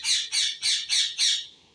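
A pet parrot squawks five times in quick, evenly spaced harsh bursts, loud and close, with each call fading slightly toward the end.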